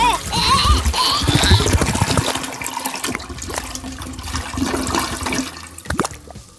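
A toilet flushes nearby with a loud rushing, gurgling swirl of water that fills the whole stretch and gradually tapers off, with faint voices underneath.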